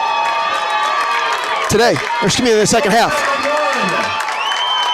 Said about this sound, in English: the crowd is into this as they're cheering on the Foxes for a stand here